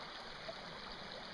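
A tiny seasonal creek runs high with snowmelt, giving a soft, continuous trickle and babble of water that stays faint and steady with no voices.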